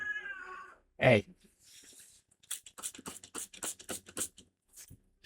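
A cat meows loudly and close by in a short sharp cry, followed by scratchy rustling and a brief spoken word.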